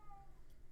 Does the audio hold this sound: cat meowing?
yes